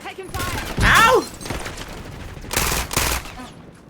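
Video game gunfire crackles in quick bursts: a dense volley early on, then two more clustered bursts later, all mixed with game effects and ambient noise.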